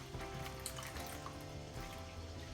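Three cups of milk pour into a mixing bowl while making batter for kids' party food, a steady, close liquid stream running unbroken for a couple of seconds over faint background music, with no talking.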